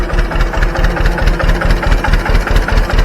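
A 1957 John Deere 520 tractor idles loud and close, its engine throbbing in a steady, rapid low pulse that runs unbroken and alone.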